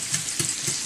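Brown sugar melts and caramelizes in a hot pan, sizzling steadily while a utensil stirs it in with a few soft scraping strokes, close and fairly loud.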